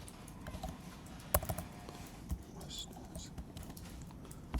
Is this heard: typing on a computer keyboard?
yes